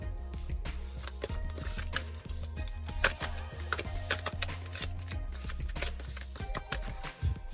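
Tarot cards are shuffled repeatedly, crisp riffling and tapping bursts in an irregular rhythm, up close with no talking.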